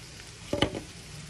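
Diced pancetta and crumbled sausage dropped into hot oil and butter, a sudden loud sizzle burst as the meat hits the pan over a low, steady frying hiss.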